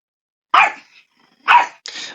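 Indoors, a pet dog lets out three loud, close barks, each clipped and punchy, with brief silent pauses between them.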